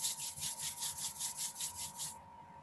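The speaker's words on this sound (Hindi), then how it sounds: "दोनों हाथों को रब करेंगे।" Two hands rubbed briskly together in steady back-and-forth strokes, a soft rhythmic swishing of about ten passes over a faint steady hum, then stopping.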